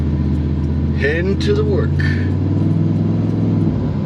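Steady low engine rumble and road noise from inside a moving truck, continuous throughout, with someone talking briefly over it.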